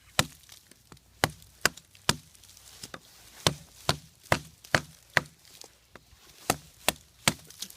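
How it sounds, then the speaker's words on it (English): A Kabar USMC knife batoned into a log, a series of sharp wooden knocks at irregular intervals, each crisp chop standing alone against a quiet background with no talk. "with a knife like this, that just bites into the wood so well"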